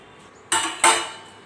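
A metal kadhai is set down in two quick knocks, each a bright clank that rings and fades over the stillness of a home kitchen.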